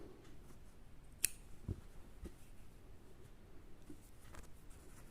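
A single crisp snip of scissors cutting crochet yarn, quiet and close, followed by faint handling taps and rustle in a calm room.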